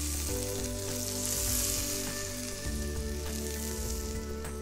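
A knob of butter melting in a hot frying pan gives a steady, close, crackling sizzle that stays loud and even throughout, with no talking.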